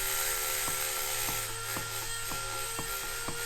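A Tillotson 236cc racing mini bike engine being rotated by hand, its rotating assembly striking the inside of the side cover, giving a steady metallic whir with regular sharp ticks about every half second, close and fairly loud.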